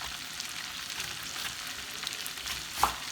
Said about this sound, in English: Now I'm putting my onions in here. Letting them cook.